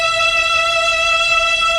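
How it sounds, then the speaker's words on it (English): Mellotron string tape of three violins recorded in the 1950s, sustaining a single steady E note, smooth and even throughout with no attack or break, alone. "these strings were recorded by him back in the 50s."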